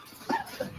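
An American Pit Bull Terrier gives two short, high whimpers less than a second apart, close and moderately soft.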